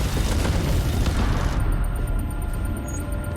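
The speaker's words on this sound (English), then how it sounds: "Our own ships firing on one another?" Spaceship point-defense guns firing in a sci-fi space battle from The Expanse, heard as a dense, continuous rumbling barrage of booms and bursts that stays loud throughout, with a high electronic tone entering partway.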